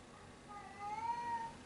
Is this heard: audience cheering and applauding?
no